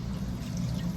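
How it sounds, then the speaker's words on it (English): Juice from canned salmon pours into a strainer in a home kitchen, a steady, close liquid stream with a low gurgling body that runs unbroken for about a second. "So I'm just gonna pour mine in the strainer."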